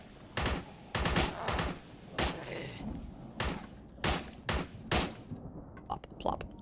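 Rapid assault rifle fire in the retro horror shooter Forgive Me Father, with loud repeated bursts and single cracks spaced across the stretch, close and punchy, ending in a few quicker lighter pops.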